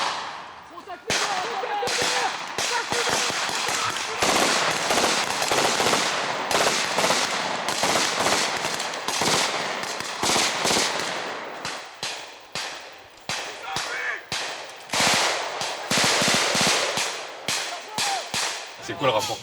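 Sustained automatic gunfire from French marine infantry on a military firing exercise, loud and close: dense bursts of sharp cracks follow one after another with only brief gaps.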